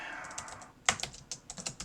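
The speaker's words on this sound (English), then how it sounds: "we'll just say typing in your prompt" Someone types a prompt on a computer keyboard, with a quick run of sharp, close key clicks in irregular bursts.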